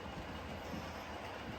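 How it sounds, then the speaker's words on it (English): A model train runs along a branch line layout toward the fiddle yard, giving a steady low rumbling roll with faint wheel clatter, close and continuous for a short stretch, no voices. "We need to know, where does that train stop in the fiddle yard?"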